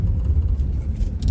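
A 1961 DeSoto, revived after sitting for decades, runs with a steady low engine rumble, close and continuous throughout, with no voices over it.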